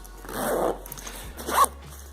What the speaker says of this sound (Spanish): Con unos guantes por muy gordos que sean, pues tiramos así y es muy fácil abrirlo.